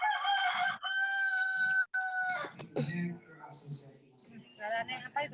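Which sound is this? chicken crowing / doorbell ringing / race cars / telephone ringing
chicken crowing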